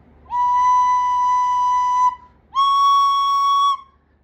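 Two sharp, piercing squeaked tones from a wind instrument fingered for a B note with holes not fully covered, each held about two seconds with a short gap between, clear and alone.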